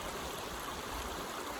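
A forest creek in Santa Fe National Forest flows in a steady, broadband rush of water, close and continuous with no pauses.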